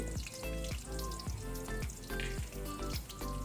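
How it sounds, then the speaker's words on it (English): Cumin seeds, slit green chilies and carom seeds sizzling in hot oil in a pan for a chana gravy, a steady close crackle with rapid popping spatters throughout and no talking. "Into this I am adding 1 teaspoon of cumin seed, 2 green chili which I had slit, and also I'll be adding a pinch of ajwain or carom seed."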